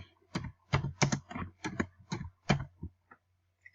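A name being typed on a computer keyboard while filling in an online form: a quick run of crisp, close key taps in bursts, then a few isolated soft clicks, with no talking.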